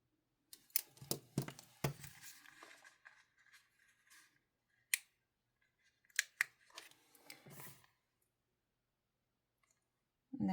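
Scissors snipping out planner stickers at close range, quick irregular clicks and cuts in short bursts separated by quiet pauses, with no voice.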